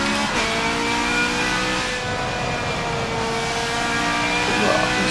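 A Ferrari race car accelerates on a track, its engine a loud, continuous high-pitched wail that climbs steadily in pitch, close and dominating throughout.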